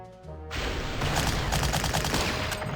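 Dense, continuous barrage of booming artillery and gunfire in a war strategy video game, loud and sustained with overlapping blasts and no talking.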